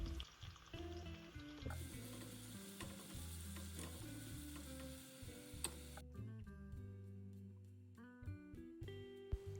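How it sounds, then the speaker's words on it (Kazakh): Onions fry in heated liquid oil, a quiet continuous sizzle with scraping stirs and light ticking clicks, close but faint, with no talking. "Қызып тұрған сұйық майдың бетіне пиязды салып қуырып аламын."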